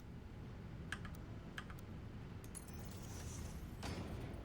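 Light clicking keystrokes on a new computer keyboard, a few scattered taps and short bursts at a quiet, close level over soft background hum.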